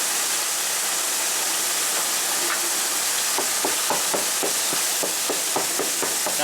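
Whisking corn into mac and cheese soup in a pot: a steady bubbling simmer runs throughout, with a series of quick scraping whisk strokes in the second half, close and fairly loud.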